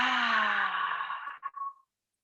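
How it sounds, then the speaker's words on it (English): A long, loud, voiced exhale from a child during a school yoga breathing exercise, falling away and trailing off into a brief final puff before silence. "Loudest exhale out."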